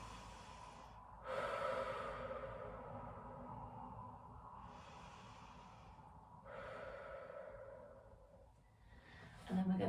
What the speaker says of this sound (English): Have a nice couple of deep breaths into the back of the body